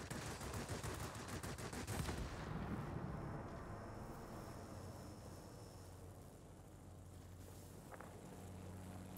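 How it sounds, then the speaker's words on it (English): Anti-aircraft guns in a Wargaming video game fire at bombers in a dense, rapid barrage of rattling bursts that is loudest at first and then fades to scattered distant firing over a low rumble, with no talking. "you see the AA guns just going to absolute town on these bombers"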